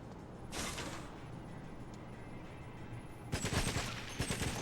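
Gunfire crackles in the 2004 Xbox game GoldenEye: Rogue Agent: a short burst of shots early on, then a sustained rattle of rapid blasts near the end over a constant game background.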